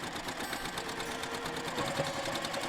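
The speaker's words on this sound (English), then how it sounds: "I'm starting at the very edge and going to sew all the way along to the very end." A sewing machine stitches steadily along the edge of a quilt at stitch length 2, a fast, even mechanical whir that runs close and continuous without pause or speech.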